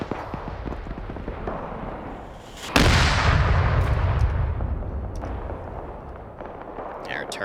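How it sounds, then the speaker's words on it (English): BMP armoured vehicle firing its gun in a military video game: one sudden heavy boom that rolls out into a long rumbling decay, following scattered distant gunfire, with a voice speaking. "I think the BMP is firing at it."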